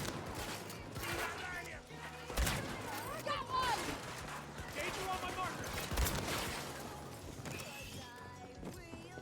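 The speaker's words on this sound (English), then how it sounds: "leave it to me to miss with the shotgun at point blank range" Shotgun blasts and other gunfire crack sharply in a Battlefield 2042 match, a few loud bursts among mechanical clatter and clanks, with a voice talking over the action.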